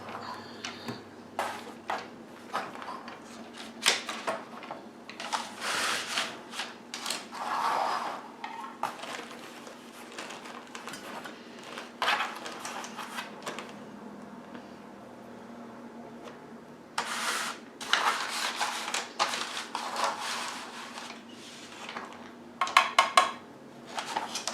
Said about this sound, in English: Let me get this pan down here so you can see.